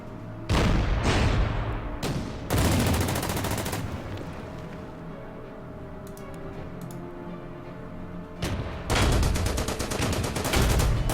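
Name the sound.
88 gun firing at a Matilda tank, video game Order of Battle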